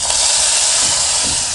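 Mustard seeds, dried chilli and curry leaves sizzle in hot oil with a loud, steady hissing crackle, close and continuous for a brief moment, no talking.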